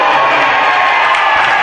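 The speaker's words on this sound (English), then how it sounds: "And that brings up the Bronx cheer from the fans" Basketball fans at a women's college tournament game let out a mocking Bronx cheer, a dense, loud crowd roar with jeering voices sustained throughout the short moment.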